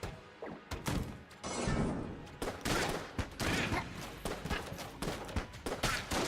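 Rapid gunfire in the Enter the Gungeon video game: a quiet, dense stream of sharp shots and impacts in uneven bursts, with game noise between them.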